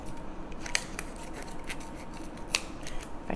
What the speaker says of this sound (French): Fait que je vais couper le petit emballage du mozzarella